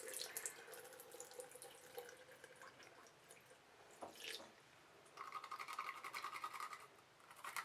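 Tap water runs and splashes over an eyeliner makeup brush held under a sink faucet, a steady close watery hiss with brief surges and drips, alone with no voices.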